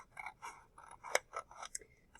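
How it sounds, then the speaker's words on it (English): Scissors snip along a folded line in a sheet of paper, a quick series of crisp close cuts in an uneven rhythm, quiet and without talking. "I'm going to stick my scissor tip in there, and I'm going to cut right along that folded line"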